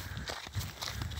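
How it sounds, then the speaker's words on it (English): Bare feet stepping on a gritty trail of very fine stones, several soft crunching footfalls in a steady walking rhythm, close and quiet with no speech. "All you hear is my footsteps"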